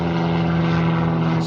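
A propeller airplane drones steadily overhead, its loud, even engine hum carrying without a break and with no voices.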